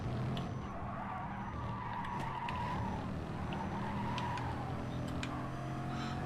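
A Bugatti in the racing game GT Sport, its engine droning steadily with tire skids and squeals as it takes corners, a continuous mid-level game mix with no talking.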